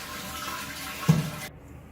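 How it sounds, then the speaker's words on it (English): An SPS200 toilet flush valve is flushed by pulling up the overflow, giving a rushing flow of water with a brief gurgle and thump before it cuts off abruptly. "you can just pull up the overflow and that flushes it completely"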